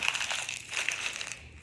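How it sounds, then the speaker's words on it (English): Sheets of paper being crushed and crumpled up by hand and foot, a continuous close crackling crinkle with sharper bursts, fading near the end, no voices. "Stomp on it, crumple it up."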